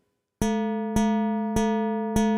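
A physical string model in the StringLab iOS app plays the note C four times at an even pace. Each pluck starts sharply with a bright tone and sustains with a slow decay before the next strike.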